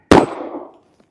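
A single sharp shot from an S&W Bodyguard 2.0 .380 pistol firing Hornady American Gunner 90 gr XTP ammunition, a loud close crack followed by a short ringing decay, then a faint tick.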